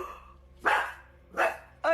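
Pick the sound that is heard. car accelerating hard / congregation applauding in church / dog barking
dog barking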